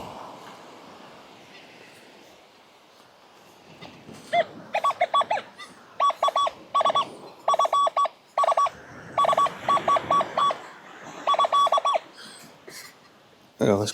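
An XP Deus II metal detector sounds repeated bursts of electronic signal tone over a coin on a beach, short beeping pulses in quick clusters with a faint background hiss.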